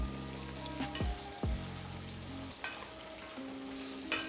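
Shrimp frying in a hot pan hiss and crackle steadily, with a few sharp clanks and scrapes of stirring cutting through the constant sizzle.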